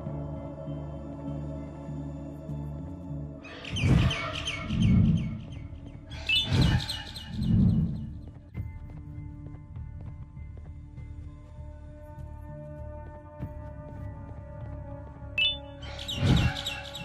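Birds chirping in the horror game Garten of Banban, a few separate bright bursts of tweeting over a steady droning background hum, with no voices.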